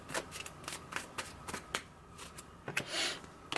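Tarot cards riffled and drawn by hand, a run of sharp papery flicks and snaps in an uneven rhythm, close and fairly quiet, with a longer shuffling rustle near the end.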